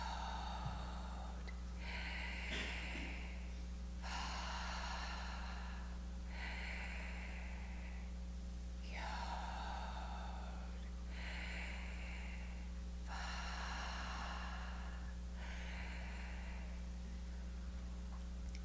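Slow, gentle breaths, soft exhales alternating with inhales, roughly seven unhurried cycles over steady low hum in a quiet room, close and airy with no words spoken.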